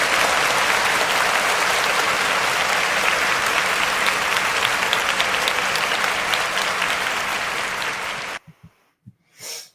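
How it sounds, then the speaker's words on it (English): Loud, dense audience applause from a crowd at a live show, steady for about eight seconds and then stopping abruptly, leaving a few faint breaths and small noises. "So let's give him a round of applause."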